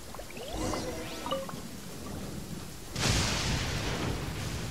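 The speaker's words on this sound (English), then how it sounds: "Uh-oh! Lightning storm!" A lightning storm in a video game: low rumbling and scattered effects build, then a sudden loud thunderclap bursts in about two-thirds of the way through and rolls on with hissing noise.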